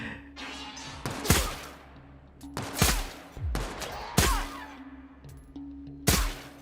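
Gunfire in a video game on its hardest difficulty, heard as repeated loud bursts of shots and heavy bangs about once a second over a steady electronic hum, with rattling automatic fire between the louder reports.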